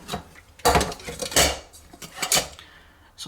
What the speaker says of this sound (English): push that down there, and put it in a larger pot